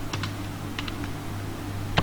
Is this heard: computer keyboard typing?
yes